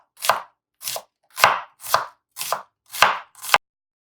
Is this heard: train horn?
no